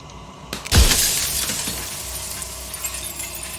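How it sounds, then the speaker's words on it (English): A mirror in the game Slay the Princess cracks and bursts into jagged glass shards: one loud, close shatter followed by a trailing tinkle of falling pieces that fades out. "Tearing the mirror into jagged shards of broken glass."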